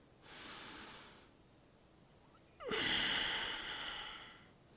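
Breathing during a yoga spine stretch: a soft drawn-in breath, a pause, then a louder, longer exhale close to the microphone, with no voices.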